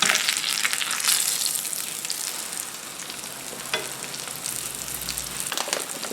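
Breaded chicken cutlets for chicken parmesan fry in a pan with a loud, crackling sizzle throughout, near and with no talk.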